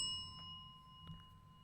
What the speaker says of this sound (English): why'd you hit the bell multiple times?